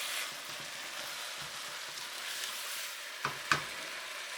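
Shrimp and cellophane noodles are stirred together in a hot pan, with steady soft sizzling throughout and two sharp utensil clicks near the end.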